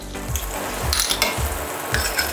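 Butter heats in a pan with a steady close sizzle and frying hiss, while regular low knocks and light clinks of stirring recur about every half second.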